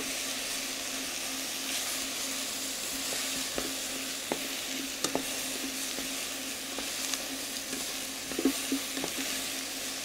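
Lamb leg trimmings and bones sizzle and sear in a hot pan, a steady frying hiss broken by occasional pops and stirring scrapes.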